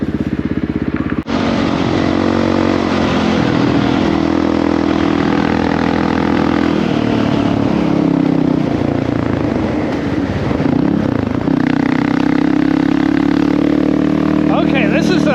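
A Honda CRF450RL dual-sport motorcycle engine runs loud and close after a sudden start, holding a steady, throbbing drone with slight swells, while a rider talks over it.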